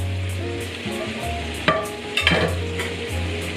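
Marinated snack with chopped coriander stirred and sizzling in a frying pan, a steady fry hiss with a couple of sharp spoon scrapes against the pan, close up and with no talking.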